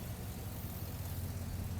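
A 2000–2007 Chevy/GMC 2500HD pickup engine idles steadily after a throttle body replacement, a low, even rumble that holds close and constant with no talking.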